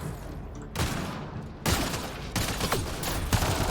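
Pistol fire in Mass Effect: Andromeda comes as rapid, dense bursts of shots mixed with loud combat noise, continuous and close throughout.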